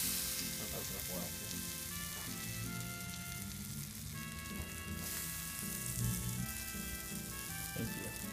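Food fries in a hot oiled pan, a dense steady sizzle and crackle throughout, with faint stirring and background noises.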